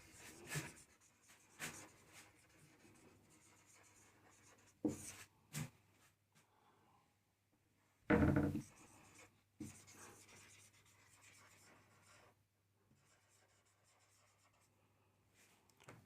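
Pen or chalk strokes scratch out a word on a writing surface, coming in short separate bursts with quiet gaps between them and a faint steady hum behind them.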